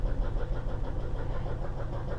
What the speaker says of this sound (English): I can hear like a pulley or something squealing a little bit there